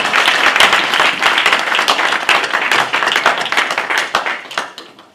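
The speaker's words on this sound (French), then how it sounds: "En we applaudisseren voor de Heere God." A church congregation applauds steadily, dense close clapping from many hands filling the space without pause, with a few voices mixed in.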